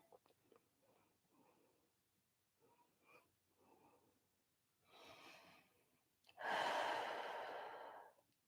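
Slow yoga breaths during a steady power flow class, soft nasal inhales and exhales followed by a long, loud, close sigh-like exhale.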